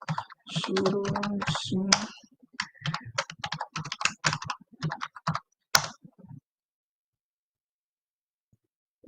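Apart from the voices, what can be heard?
typing on a computer keyboard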